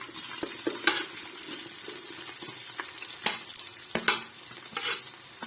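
Chopped onions fry in Kashmiri cooking oil for an aloo matar moongre mixed vegetable dish, a steady close sizzle with scraping stirs and occasional clinks of a spoon on the pan.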